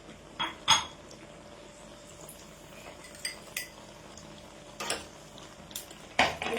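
Seeds roasting in ghee in a pan, with a spoon clinking and scraping against the metal in scattered sharp taps over a faint steady sizzle, no talk.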